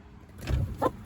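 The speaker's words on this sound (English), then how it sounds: "Darn chicken." A chicken gives a couple of short clucks close by, a low burst followed by a brighter squawk, brief and moderately loud with no talking.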